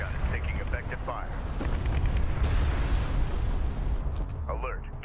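A gunship explodes in the desert warfare video game Homeworld: Deserts of Kharak, a sustained rumbling blast amid crackling battle fire, with radio voices chattering at the start and end.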